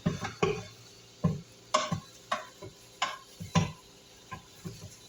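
A wooden spoon or spatula scrapes and knocks against the pot of a pressure cooker as it stirs pork chops. The sharp ticks and taps come in an irregular rhythm, close by, with a soft sizzle underneath.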